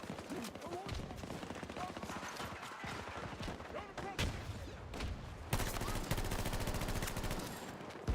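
Rapid automatic gunfire and scattered single shots crackle through a Battlefield firefight, dense and continuous, growing louder toward the end, with someone talking over the action.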